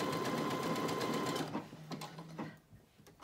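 Brother Innov-is A150 sewing machine stitching out a decorative pattern, a steady rapid mechanical whir and clatter that slows into a few separate clicks and motor tones before stopping.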